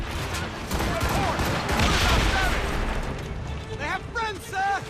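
Naval cannon fire in Assassin's Creed Rogue rumbles as a dense, continuous barrage of booms under shouted crew voices, with a few whistling projectile sounds near the end.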